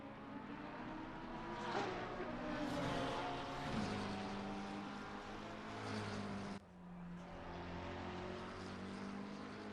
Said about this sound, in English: You can see a bunch of cars now coming through